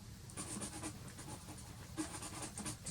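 A pastel stick is worked across paper in a desert landscape painting, making soft, steady scratchy strokes that repeat in a loose rhythm, close and quiet, with no talking.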